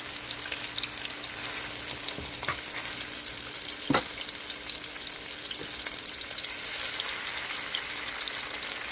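Cranberry short ribs browning in a hot pan give off a steady, loud sizzle and crackle throughout, with an occasional tap or scrape of the meat being moved.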